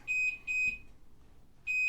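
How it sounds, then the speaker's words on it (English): An alarm beeps in sharp, loud, high pairs, pauses, then starts beeping again. "there's our alarm again"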